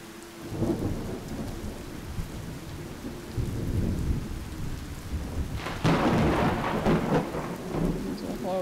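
Steady rainfall with rolling thunder in the farming game Cattails, a low rumble building midway and a louder, brighter burst of rain and thunder near the end, with no voices.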